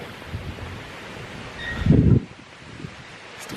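Wind blows outdoors with a steady rushing hiss, and a stronger gust buffets the microphone for a moment before it settles back to a soft background whoosh.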